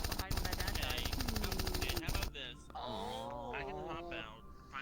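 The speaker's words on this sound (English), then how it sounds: "God's smallest Tommy gun on planet Earth." A tiny Tommy gun in a video game fires rapid bursts in the first couple of seconds, then gives way to tonal, groaning game sounds and voices.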